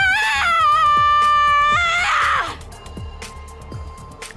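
Video game character Eva screams in a sudden high, wavering outburst that breaks into a strained cry, then trails into quieter sobbing breaths, close and loud over a low musical background.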